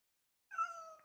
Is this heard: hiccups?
no